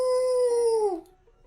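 A dog howls in the video game I Love You Colonel Sanders: one sustained, loud, tonal howl held steady, then bending downward and dropping off to quiet.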